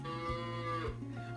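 A cow moos in a long, drawn-out call with a rich harmonic tone, followed by a second shorter low moo near the end, heard close and clear with no talking.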